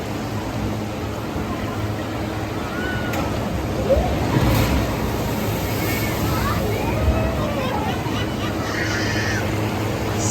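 A log jammer flume ride at Waldameer Park rushes through water with a continuous churning wash and splashing, people talking over it, the water noise steady and fairly loud throughout.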